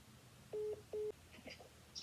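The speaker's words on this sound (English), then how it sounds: "Let me make a phone call." A telephone is dialed to place a call: two distinct, sustained touch-tone beeps, followed by fainter softer tones, quiet and close with no voices.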